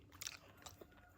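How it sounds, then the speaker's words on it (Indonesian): Candy chewed in the morning: a few close, quiet crunching and smacking bites over a short moment, with no talk. "Ngunyah permen isuk-isuk."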